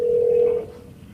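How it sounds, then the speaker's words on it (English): A single telephone keypad tone while dialing 911, one steady beep held for about half a second then cut off, close and clear over faint background noise. "picked up the phone and called 911"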